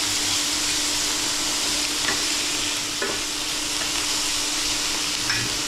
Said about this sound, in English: Cooking mac cheese. Trying to work out this induction cooker.